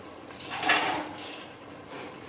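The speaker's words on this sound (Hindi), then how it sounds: "ऊपर हम ढक्कन दे देते हैं और चूल्हे को हल्का कर देते हैं" Metal lid set onto a cooking pot of palak gosht (spinach and mutton) in a home kitchen, a single soft clatter rising then settling into quiet stove background.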